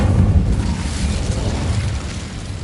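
The Incendio fire spell cast in Hogwarts Legacy on PS5 gives a loud, steady roaring whoosh of flame that fills the whole moment without letup and carries no speech.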